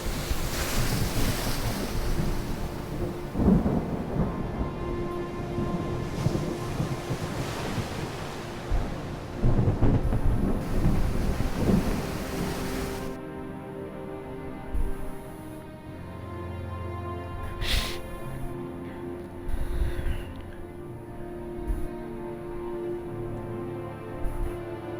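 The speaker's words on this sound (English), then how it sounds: "Love these storms when they come in." A stormy sea in the pirate trading game Port Royale 4 brings loud roaring wind, crashing surf and rumbling thunder. After about thirteen seconds it settles to a quieter, steadier background.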